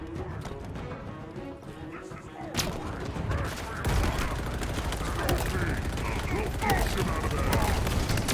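Enemy gunfire in the video game Halo Infinite, rapid crackling bursts that grow denser and louder after a quieter opening, mixed with other game effects.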